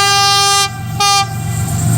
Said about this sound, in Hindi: ये देखिए रेलगाड़ी आ रही है और जा भी रही है